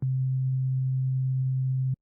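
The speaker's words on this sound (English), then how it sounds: "Let's suppose this sine wave is representing the note C." A steady synthesizer sine tone on the note C holds at one pitch for about two seconds, clean and constant in loudness, then cuts off abruptly.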